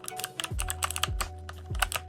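Typing on a GK50 Elite mechanical keyboard with white switches and a metal plate, a quick run of crisp clicky keystrokes, close and distinct, with a few low thumps underneath and no talking.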